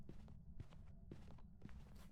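Ghost footsteps in the horror game Phasmophobia, a steady run of muffled thuds spaced about half a second apart, heavy and somewhat distant, with no voices over them.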